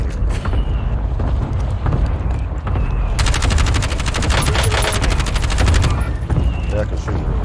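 Rapid gunfire in an online shooter video game, with a dense automatic burst in the middle over constant loud game noise, while players talk over it.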